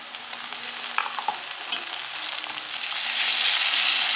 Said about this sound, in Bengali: পেঁয়াজ তেলে উপরে ভেজে নিচ্ছে, গরম মশলা, এলাচ দিছ, লং সব দিছে, ভুনা করে নিচ্ছে